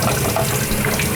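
Water runs steadily from a tap as plastic aquarium bio balls are rinsed during a freshwater tank water change, a continuous close splashing flow with no talking.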